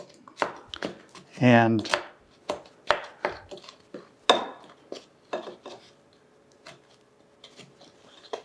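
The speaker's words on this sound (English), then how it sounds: "we'll just mix those ingredients together" Dry muffin ingredients, including salt, are stirred together in a mixing bowl, giving a fast run of utensil scrapes and taps against the bowl. A voice talks around the mixing.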